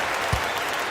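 Crowd applause in an eBasketball video game, a continuous wash of clapping and cheering with one brief thump, steady and fairly loud.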